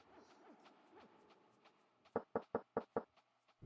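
A series of five sharp, evenly spaced knocks on a door in Quest for Glory 2, loud and close, rapping out after a quieter stretch of game background sound.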